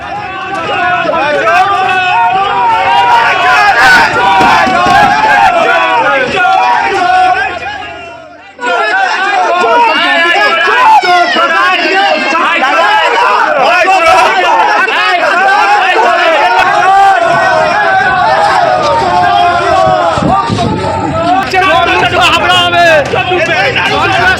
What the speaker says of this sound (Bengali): বালু ঘনিষ্ঠ আইএনটিটিইউসি নেতাকে দেখেই উঠল চোর চোর স্লোগান